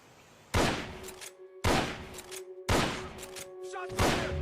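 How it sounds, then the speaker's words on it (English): Gunfire in the video game Metal Gear Solid Peace Walker: four loud, sharp blasts about a second apart, each with a short decaying tail, over a faint steady tone. "Shots fired!"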